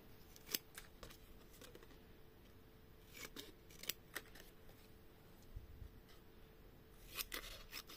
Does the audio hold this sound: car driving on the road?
no